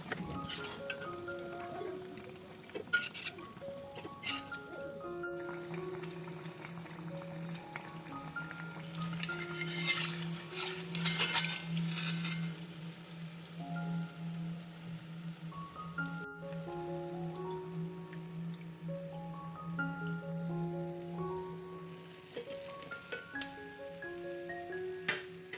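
Frying onion and rice flour snack in a pan: a steady soft sizzle with occasional stirring scrapes and light clinks of utensil against metal.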